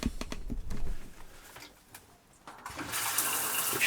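Water running from the shower line in an LT35 camper van conversion, first a sputtering flow with air bursts, then a brief lull, then a steady loud hissing stream close by.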